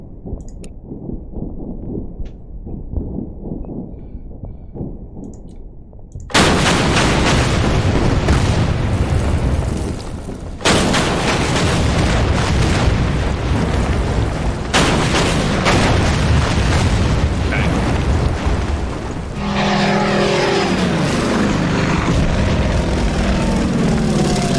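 Anti-aircraft guns fire in the wartime strategy game Order of Battle, loud booming blasts with aircraft noise breaking in abruptly after a quiet stretch and carrying on densely.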